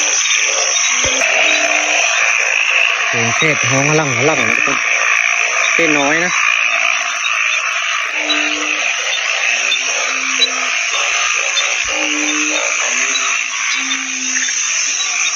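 Frogs croak from inside a cave deep in the forest: a few short, warbling bursts rise over a constant loud, high hiss while someone talks throughout.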